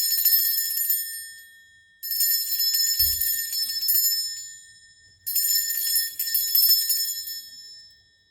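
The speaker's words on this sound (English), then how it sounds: "I am going to ring a bell" A bright metal bell rung for space cleansing chimes three times, each strike ringing out clear and high, then decaying slowly into near silence, with a soft thump between the first and second strikes.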